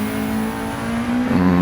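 The Subaru Impreza rally car VRX in Gran Turismo 7 drones loudly and steadily, its pitch lifting slightly near the end with no talking.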